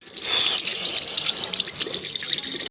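Tap water runs steadily into a sink as hands are washed at home, a continuous close splashing hiss lasting a few seconds before cutting off.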